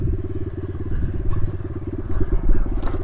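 A Yamaha TTR 125cc pit bike engine thumps close by at a rapid, steady beat during a trail ride, with the revs rising and falling and a bit of rattle.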